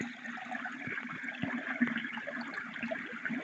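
An aquarium filter pump, turned up fairly high, moves water in a steady close rushing and trickling wash with faint bubbling and gurgles throughout.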